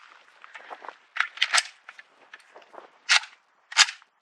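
An SKS rifle fired during a function test at an outdoor range, a string of sharp, cracking reports at irregular intervals, some louder and closer-sounding than others, with no talking.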